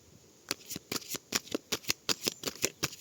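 Tarot cards shuffled and drawn by hand, a rapid run of crisp riffling flicks and snaps in quick, fairly even succession, close and clear, with no talk over it.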